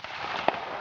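A cannon fires once at a Napoleonic battle reenactment of the 1809 Battle of Raab at Győr-Kismegyer, a single short distant boom rising over steady outdoor background noise.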